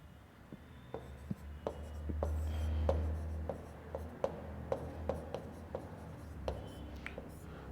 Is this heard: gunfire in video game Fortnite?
no